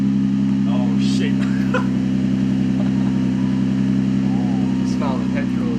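A 1JZ engine in a Toyota Soarer idles loudly and steadily with a deep, constant droning hum, close by and cold, while people talk over it throughout.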